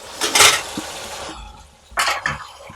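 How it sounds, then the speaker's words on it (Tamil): A metal lid set down onto a cooking pan while preparing a South Indian vegetarian feast, giving two clattery knocks about a second and a half apart, close by with no talking. "மூடி வச்சுருவோம்."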